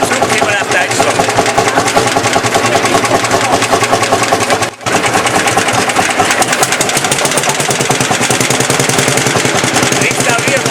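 Idling engine of a 1953 vintage tractor-type vehicle rated at 55 hp, once exported to Australia and later restored, shown at a 2012 vintage vehicle meet in Heilbrunn; a steady, loud, rapid chugging runs continuously with a brief dropout midway.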